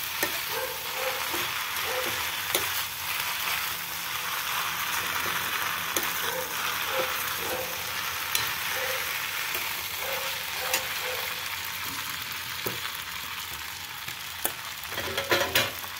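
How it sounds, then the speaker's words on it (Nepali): Buckwheat flour chow mein with chili powder fries in a pan, giving a continuous sizzle with repeated scraping and clinking of stirring throughout, close and steady without speech. "हल्का चलाउने यसलाई."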